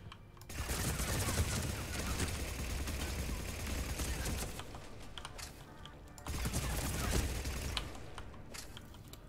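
Dense, sustained gunfire in Mass Effect 3, two long bursts of rapid shots nearly filling the clip with a short lull between, loud and close with faint voice underneath.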